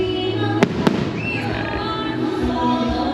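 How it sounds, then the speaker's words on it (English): Fireworks go off outdoors, two sharp bangs close together early on over a steady crackling and rumbling background, with a person briefly speaking nearby. "Hopefully some fireworks happen."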